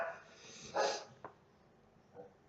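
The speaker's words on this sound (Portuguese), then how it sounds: "Pausa para os cachorros." A dog barks a couple of times at a distance, the calls short and muffled, set against a quiet household background with a low hum.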